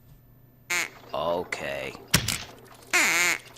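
A duck call blown repeatedly in a radio ad, several short nasal quacking bursts separated by pauses, close and loud, with a brief spoken word between them.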